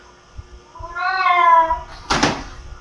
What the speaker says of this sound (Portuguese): chegou o gato da patroa aí, miando aqui na maior altura